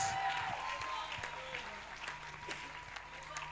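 A church congregation at a youth camp session claps and cheers for the Lord, with dense continuous applause and scattered shouts of praise over a steady background hum.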